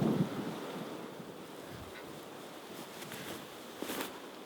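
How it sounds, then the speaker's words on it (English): Strong wind gusting across an outdoor disc golf course, rumbling mic buffeting over steady rushing air, with a few faint distant knocks and no talking. "you hear that wind just really kicking up now"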